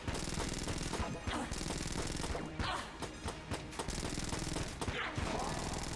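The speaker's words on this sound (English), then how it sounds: "machine gun shots." Rapid machine gun fire from the top-down dungeon shooter Enter the Gungeon, a dense, continuous barrage of loud shots with crashes and impacts mixed in, running almost without pause.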